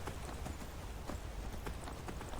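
Horse hooves gallop in a quick, steady clip-clop rhythm in Skyrim, a fantasy video game, heard at a moderate level over a dense, constant noisy background with no talk.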